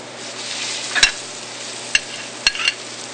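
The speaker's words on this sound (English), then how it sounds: "we'll take some fresh fish. In this case, we're using fresh tilapia. And we'll throw that in the pan" Fresh tilapia frying in a pan alongside garlic, with a steady loud sizzle throughout broken by a few sharp clicks and taps of utensils, no talking.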